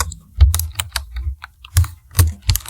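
Close, clicky keystrokes on a computer keyboard tapped in an irregular rhythm of quick presses and brief pauses, with no talking.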